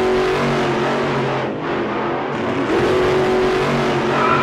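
A pocket motorcycle engine revs and whines steadily aboard a ship, pitch rising and falling, loud and close, with a brief dip in the middle before it picks up again.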